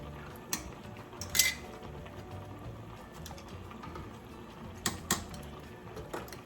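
Metal canning jar lids clink and tap as they go into a pot of water for water bath canning, several sharp, light metallic knocks spread over quiet kitchen background.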